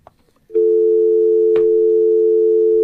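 An outgoing telephone call to Ducky Vaughn: a single steady, loud dial or ringback tone begins after a short quiet lead-in and holds unbroken, with a brief click partway through and no talking.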